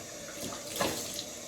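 Tap water running into a sink for a quick rinse after shaving: a steady, close hiss of flowing water with a brief splashy swell midway, no talk.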